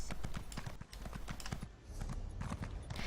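Horse hooves clip-clop at a steady walking rhythm in The Elder Scrolls Online, close and fairly loud, a continuous patter of hoofbeats with a brief dip partway through and no talk over it.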